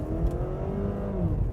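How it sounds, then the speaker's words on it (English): A 2013 Cadillac ATS with a turbocharged 4-cylinder engine revs under hard acceleration, a steady raspy engine drone that stays close and continuous. "only under hard acceleration can you hear the engine"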